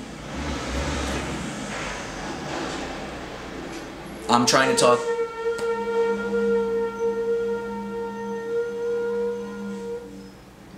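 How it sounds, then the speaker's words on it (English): A heavy truck rumbles past outside a ground-floor apartment, a low engine drone beneath someone speaking, with a brief clattering rattle midway and a sustained tonal hum afterward. "if you're hearing trucks and stuff outside, I really apologize"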